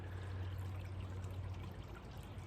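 A sandy creek flowing off into the distance among ferns and roots, a soft continuous trickling stream with a low steady rush and no voices.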